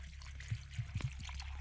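Water trickling and pouring in short gurgling bursts at a winter camp in a lean-to, drawn to boil for English tea, faint and close over a low steady background.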